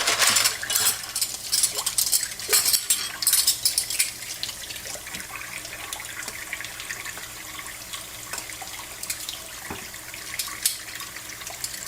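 Dishes and cutlery clatter and clink at a sink under running tap water, with bright metallic knocks early on over a steady, soft stream, close and without speech.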